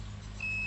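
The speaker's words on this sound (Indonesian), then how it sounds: "Oke, buzzernya bunyi." A continuity tester buzzer sounds during repair of an LG TV with a shorted horizontal transistor, a steady high electronic tone starting partway through over a constant low hum.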